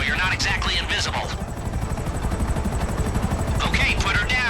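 Helicopter rotors in the video game GTA Online thrum steadily and close throughout, a loud continuous chop, while voices talk over it.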